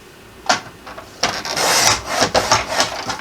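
A paper trimmer blade slices a short strip of chipboard held tight, giving close, loud rasping scrapes: one brief stroke, then a longer run of gritty cutting and sliding pulses.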